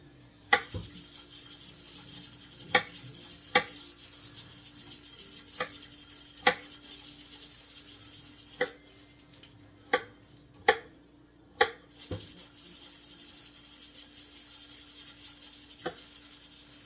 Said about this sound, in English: Now I'm just doing a rough chop on this garlic